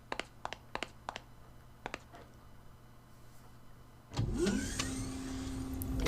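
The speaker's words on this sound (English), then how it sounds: "You like that Doom elevator sound?" A mechanical elevator in Galerians starts with a sudden loud grinding whir after a few quiet clicks, a droning motor hum with rising metallic tones that carries on to the end.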